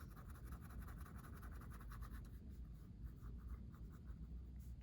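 A colored pencil moves lightly across paper, a soft, close, continuous scratchy scribble made of quick back-and-forth strokes, quiet and steady with no talking.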